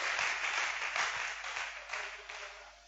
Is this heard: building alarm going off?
no